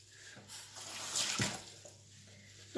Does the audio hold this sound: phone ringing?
no